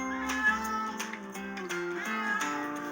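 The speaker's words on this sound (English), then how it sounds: "Ralph meowed every 2 or 3 seconds for the whole journey." Ralph the cat meows repeatedly in a tonal, wavering voice, several cries strung together over a few seconds, close and clear against a quiet background.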